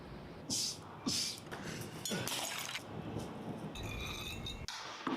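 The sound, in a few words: glass breaking in the Resident Evil video game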